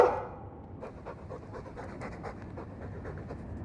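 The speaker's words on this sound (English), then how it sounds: "I'm sick of what's-his-name staring and panting." A Mabari war dog in Dragon Age II pants heavily and rhythmically up close, a quick run of breathy huffs following a brief louder burst at the start.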